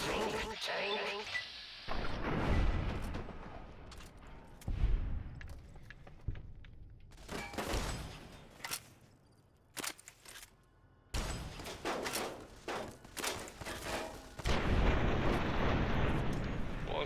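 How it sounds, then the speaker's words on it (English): Bursts of pulse rifle fire in Fallout: New Vegas, loud broadband blasts and booms scattered across the stretch with gaps between them, mixed with game sound and some voice. "Pulse rifle for the win."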